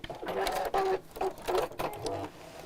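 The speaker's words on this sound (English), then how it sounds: "So I'm just sewing slightly within that seam allowance" A sewing machine stitches a seam on a small box bag in short repeated bursts of whirring. It stops and starts several times at close range.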